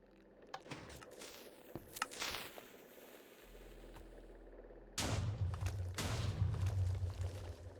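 A deep, booming blast from an orbital strike in Minecraft Bedrock Edition, preceded by scattered sharp pops and cracks, then a loud sustained rumbling explosion that carries through the rest of the moment.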